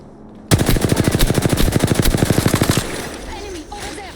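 Rapid automatic gunfire in Apex Legends on Storm Point: one loud, close burst of evenly spaced shots lasting about two seconds, followed by a ringing tail and faint game sounds.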